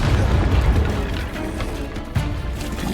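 Spell blasts from Bombarda and Confringo in the video game Hogwarts Legacy, a dense, rumbling run of booming bursts with a fresh loud impact near the end, continuous and fairly close.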